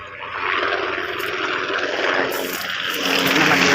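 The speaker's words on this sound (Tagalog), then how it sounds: "Naingay pa yung helicopter." A helicopter drones overhead as a loud, continuous broadband roar that holds steady and swells slightly toward the end, with nobody speaking.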